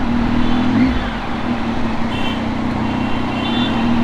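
Highway traffic in Malad heard from inside a car, a steady drone of engines and road noise with a faint beep or two above it, no talk over it.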